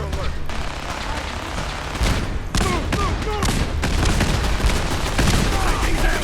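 Rapid gunfire aimed at the player during a firefight in Fallout 4, bursts of automatic shots and heavy booms crackling continuously, with someone talking over the battle.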